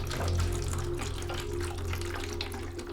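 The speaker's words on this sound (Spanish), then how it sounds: "un poco de agua con una porción de lejía" Water mixed with bleach pours steadily in a continuous splashing stream, close and fairly loud, alongside a low constant hum, with no talking.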